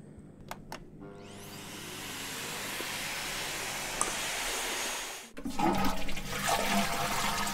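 Tap water runs hard into a sink while a vape clearomizer is rinsed, making a loud, even rushing hiss that lasts a few seconds, stops abruptly, then resumes with splashing.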